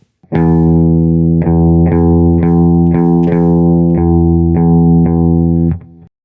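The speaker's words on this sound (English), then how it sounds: "you'll pick the large E string every 4 seconds or so while turning the machine head" The low E guitar string plucked about every half second to second while tuning, each note ringing on in a steady sustained tone with bright harmonics, close and loud.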